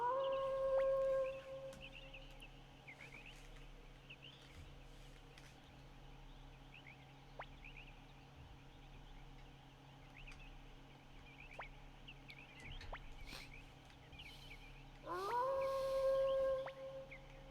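Shiro the dog howling in Suikoden II, a synthesized game howl with sustained tonal wails at the start and again near the end, over a steady game music and ambience bed.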